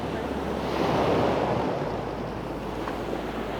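Steady, loud wind gusts across a shallow bay used for seagrass growing, rumbling into the microphone with constant surf-like noise and no breaks.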